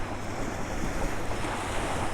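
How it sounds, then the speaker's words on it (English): Bay waves wash steadily onto the shore beside a beach campsite, a continuous broad roar of surf mixed with wind, with no one talking. "I know you can hear the ocean, or the bay, our bay."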